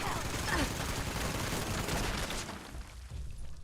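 Dense, continuous gunfire from the video game Fallout 76, with rapid overlapping shots and bursts filling the whole moment before easing slightly near the end.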